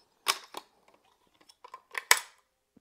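Bolt action of a Howa 1500 HCR .308 precision rifle being worked to clear it, a series of sharp close metallic clicks and clacks spread across a few seconds, quiet gaps between them and no talk.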